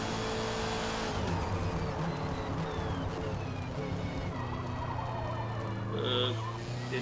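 Race car in Forza Motorsport (2023) driving hard through a track chicane, a loud sustained engine drone with rising and falling revs and a brief squeal, no talking.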